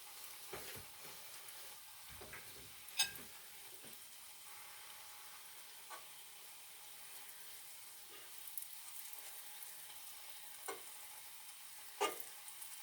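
Food frying in a pan on a home stove, a quiet steady sizzle with occasional sharp clicks and stirring scrapes, no voices.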